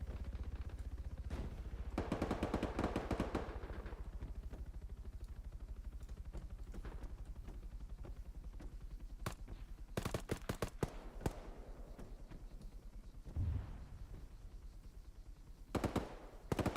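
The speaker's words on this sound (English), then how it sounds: "I'm getting shot at, so where is it?" Arma 3 gunfire comes in scattered bursts of automatic fire and single sharp shots, some close and some distant, over a steady helicopter rotor drone.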